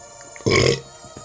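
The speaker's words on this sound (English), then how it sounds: "Excuse me, I'm burping." A single short burp from a person playing Fire Emblem Fates: Conquest, loud and close, lasting about a third of a second between quiet moments with no talking.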